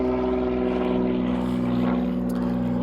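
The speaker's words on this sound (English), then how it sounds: "There goes a plane taking off." Plane taking off at Fairbanks airport in Alaska, a loud steady propeller engine drone with strong low harmonic hum, holding close and continuous throughout without talking.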